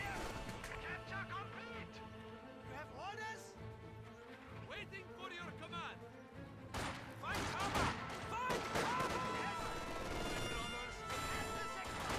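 Game battle sounds from Company of Heroes 2, with MG42 machine gun and Grenadier rifle fire hitting Conscripts, dense crackling shots and crashes layered under music and a commentator's steady talk.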